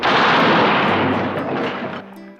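A loud, sustained burst of gunfire from a 1970s Western, a dense roar of overlapping shots that tails off, ending in a brief quieter stretch and a final sharp crack.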